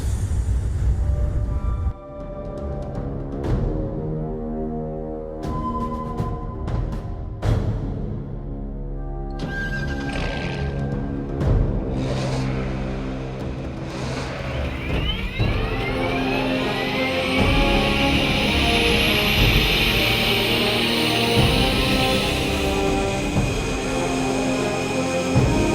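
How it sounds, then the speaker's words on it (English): Chevrolet Corvette ZR1 sports car accelerating hard beside a US Navy Hornet fighter jet, a loud sustained roar of engine revving and shifting layered with a rising turbine whine that builds into a dense, steady blast. "it's going to take that Hornet a while to spool up, and my ZR1, well, it is just blindingly quick off the line"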